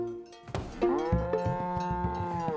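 A cow lets out a long, deep, drawn-out moo that swells and holds steady, close and loud, preceded by a couple of short thuds.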